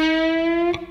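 A single sustained note on a distorted electric guitar, bent up at the 9th fret of the G string, rings steadily and loud for under a second before being cut off.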